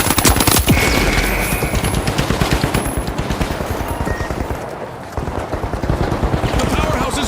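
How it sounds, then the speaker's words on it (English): Rapid, loud gunfire crackles in the shooter game The Finals, with dense bursts of shots running throughout. An energetic announcer shouts over the action. "Shotgun!"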